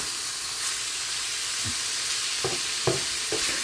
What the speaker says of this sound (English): now I'm going to throw the meat right in the pan